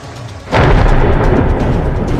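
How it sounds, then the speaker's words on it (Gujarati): A loud, sudden rumble of thunder breaks in and rolls on heavily against a steady wash of afternoon monsoon rain in Gujarat, India. "કડાકા ભડાકા સાથે વરસાદના આ દ્રશ્યો છે"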